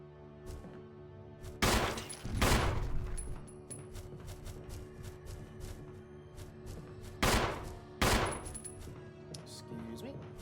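Gunfire in the Resident Evil (2002) video game: a few loud, sharp blasts spaced apart, each with a short decaying tail, over quiet game ambience.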